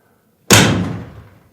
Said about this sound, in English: I'm going to close the door